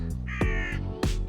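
A crow calls outdoors, giving three loud, harsh caws in quick succession close by, each a rasping descending cry over a low steady background rumble.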